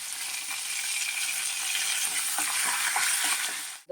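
Mustard seeds, cumin, dried chillies and curry leaves fry in hot oil for a carrot and coconut stir-fry, giving a steady close sizzle with scattered crackles and pops, and no talking.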